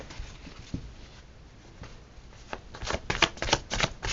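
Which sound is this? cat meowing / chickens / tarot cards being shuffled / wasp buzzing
tarot cards being shuffled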